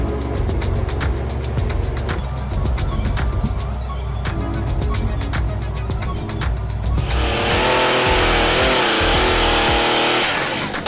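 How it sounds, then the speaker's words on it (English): A logging truck pulling a timber trailer through mud roars loudly and continuously up close, its engine straining, with a harsher rushing churn building in the second half. "The engine roars fiercely, mud and dirt flying everywhere, with the tracks spinning in an effort to conquer the harsh terrain."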